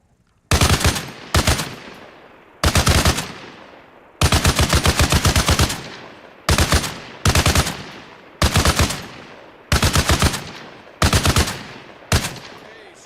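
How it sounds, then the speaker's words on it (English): A mounted .50 cal machine gun in ARMA Reforger fires loud, close bursts of heavy automatic rounds, about nine bursts of varying length with short pauses between them and a ringing decay after each. "Mount the 50 cal on the next lane over. Target's up. Let her rip."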